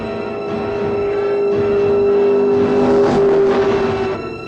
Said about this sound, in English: So the car is going up the hillside and the police are chasing him.